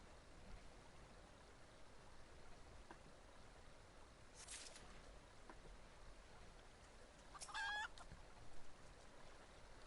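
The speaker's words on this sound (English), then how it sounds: "I knew I could hear a chicken. A green chicken, no less." A green chicken in Final Fantasy XIV gives a couple of brief, faint clucks over a steady low game ambience, one short burst near the middle and a busier run of clucks toward the end.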